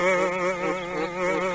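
A cartoon bee buzzing close by, a steady wavering drone that rises and falls slightly in pitch over a brief moment, alone with no talk.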